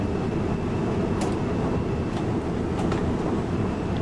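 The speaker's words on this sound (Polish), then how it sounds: "O, Siemens ciśnie, spalinowy." A diesel Siemens locomotive running in Train Sim World 5 on the Frankfurt S-Bahn, a dense steady low rumble with a faint high whine and a few brief clicks, no voices.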